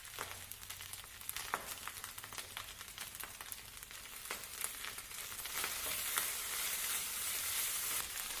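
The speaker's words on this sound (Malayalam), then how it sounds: "ഒരു 1-2 മിനിറ്റ് കൂടി നന്നായിട്ട് ഇളക്കുക" Butter garlic fried rice sizzles and crackles steadily in a hot pan, with scattered clicks of stirring throughout and the frying growing a little louder toward the end, with no voices.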